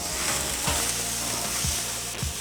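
Beef burger patties sizzle steadily on a hot grill, a dense, even crackle and hiss with a few soft scrapes or thumps, heard close and alone.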